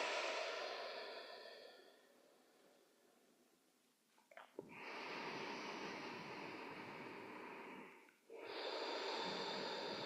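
Deep breaths during a meditation session: a long exhale tails off, then after a short pause comes a strong drawn-in breath. It is close, airy and loud, with no talking over it.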